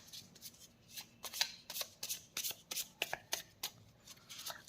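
Handmade cards for a card reading are shuffled by hand in a quiet room, a rapid run of crisp, close riffling flicks and taps in uneven bursts.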